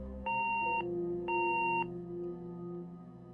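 Two clear electronic beeps from an answering machine in the game Gone Home, each about half a second long with a steady pitch, sounding back to back over a low room hum with no talking.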